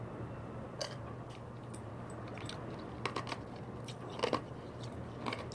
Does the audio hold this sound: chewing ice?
yes